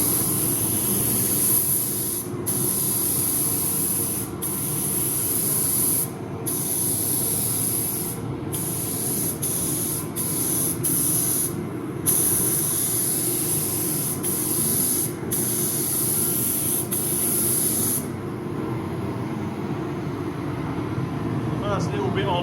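An aerosol spray can laying a flip-colour coat over a black bike frame, a steady close hiss running without a break, cut by a few short pauses and light handling rubs.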